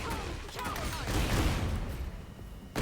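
Anna's gun attack in the fighting game Tekken 8, a loud, dense rattling burst of rapid gunfire lasting under three seconds, with a brief fresh hit at the very end.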